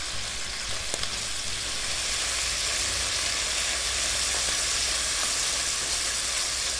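Beef shoulder searing in a hot pan, a loud continuous sizzle and hiss with a brief clack near the start, close and unbroken, with no talking.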